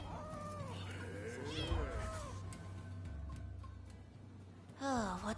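Cats in the video game Rise of the Ronin meow repeatedly, several drawn-out plaintive cries early on and another loud meow near the end, over a low steady background hum.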